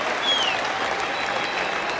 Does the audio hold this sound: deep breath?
no